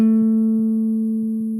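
A single guitar note, played on the third string at the second fret, rings out cleanly and sustains, fading slowly with no other sound.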